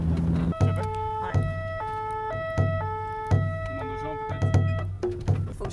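A French fire brigade vehicle's two-tone siren wails repeatedly as it arrives in a crowded Mayotte shanty town, loud and near with alternating high and low notes, layered over engine rumble and street noise.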